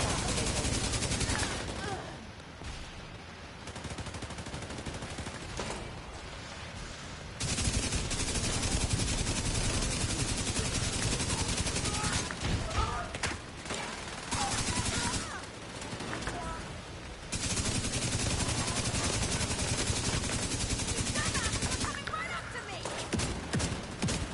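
Shotgun blasts in The Division 2 during a firefight, loud bursts of gunfire in repeated clusters over dense game noise, with voices talking throughout.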